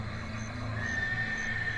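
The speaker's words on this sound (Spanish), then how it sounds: "el relinchido de un caballo a lo lejos" Far off in a forest campsite, a horse whinnies faintly under steady background noise.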